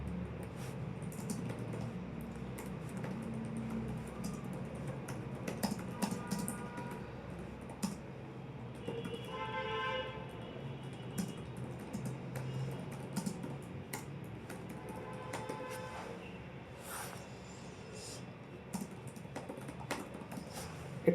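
Continuous fast typing on a computer keyboard, dense quiet clicks running throughout under a steady background hum, with a brief tonal beep-like sound in the middle.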